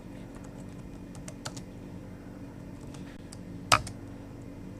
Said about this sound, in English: Now let me type in pwd.